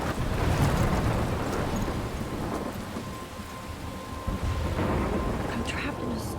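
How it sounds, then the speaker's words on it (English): A heavy thunderstorm in Life is Strange Remastered, with steady dense rain hiss and rolling low thunder that fill the scene throughout, loud and close, with no voices. "I'm trapped in a storm?"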